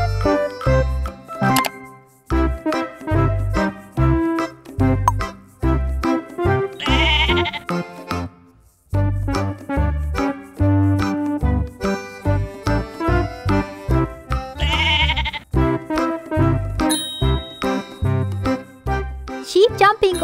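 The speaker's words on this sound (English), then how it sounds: "There is a lovely sheep in his dream." A sheep bleats repeatedly in short wavering cries over a bright, bouncy children's music track with chimes, the calls recurring at intervals across the whole stretch.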